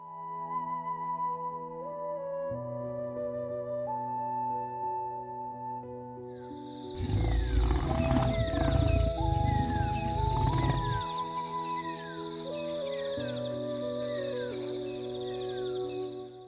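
A lion roars loud and close amid a wild pride's territory, a deep rumbling burst in the middle of the stretch over a steady layer of tonal background music.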